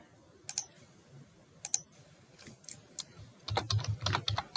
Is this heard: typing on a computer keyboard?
yes